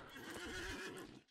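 A horse in the online fantasy game Lord of the Rings Online gives a loud, close whinny with a wavering pitch that fades out at the end.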